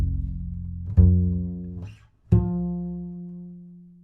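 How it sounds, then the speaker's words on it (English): An upright bass plucks repeated F notes, each a deep woody tone ringing out and decaying, with three separate plucks heard close and clear and no voices. "Here's a bunch of Fs on an upright."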